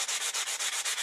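Coarse sandpaper scrubs over a metal maple leaf in quick, regular strokes, about eight rasping passes in a second, close and continuous with no voices.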